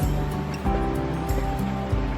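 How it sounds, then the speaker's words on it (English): River water running under a footbridge on a countryside trail, a steady, fairly loud rushing flow heard up close with no talking over it. "Water running there."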